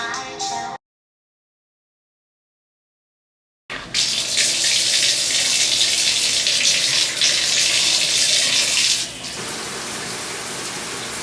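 Steady, dense hiss of shower water running in a home bathroom, loud and close; a brief burst before a few seconds of silence, then continuous flow for several seconds that eases slightly toward the end.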